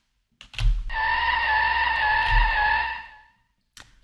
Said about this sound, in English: Let's drive and then skid.